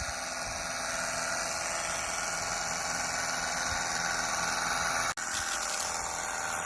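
A water pump powers a spray jet cleaning solar panels, giving a steady, even hiss and motor hum throughout with a brief break near the end, fairly quiet and with no talking.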